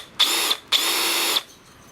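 Two bursts of a power drill running in a demonstration comparing drill types, each about half a second to a second long with a short pause between, loud and close with a steady high whine.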